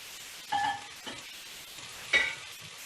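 Ground spices (coriander seeds, turmeric, red chili, mango powder, cumin, mustard seed, salt) stirred with paneer in a pan: two short scraping bursts of a utensil over a faint, quiet background, no talk.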